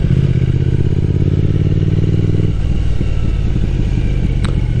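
A motorcycle rolls downhill over rough ground in Japan, its engine running loud and steady throughout, with a low rumble shifting partway through and some clatter from the rough surface.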